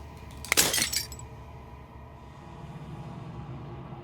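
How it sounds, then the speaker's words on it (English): Glass shatters in a single loud burst inside the game Slay the Princess, a bright crash lasting about half a second, then fading into a low, quiet ambient drone. "As the final fragment of glass shatters"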